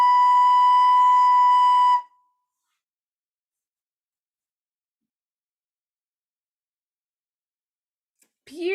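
A single sustained recorder note B, steady and clear with bright harmonics, holds for about two seconds and then stops, followed by long silence before a voice begins speaking.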